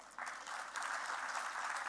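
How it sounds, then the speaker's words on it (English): Applause from an audience at the opening ceremony of a film festival, a steady, fairly faint wash of many hands clapping in a hall, swelling slightly partway through with no talk over it. "those claps should be for"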